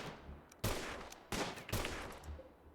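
Three sharp bursts of gunfire from colonists in the Rimworld video game, spaced apart, each with a loud attack that rings out and fades into a low background hum.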